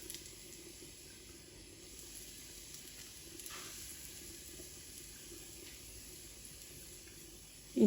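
Cauliflower pieces fry in a pan with a steady, soft, continuous sizzle and light crackle, close by and unbroken, with no talking.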